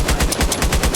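Rapid automatic gunfire in the military shooter Arma Reforger, loud and close, with sharp bursts repeating roughly every tenth of a second without a break and no voices.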